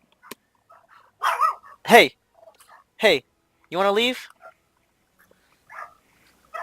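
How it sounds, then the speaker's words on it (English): A pet dog barks a few sharp times, close by, with a voice speaking between and around the barks. "Hey, quiet dog."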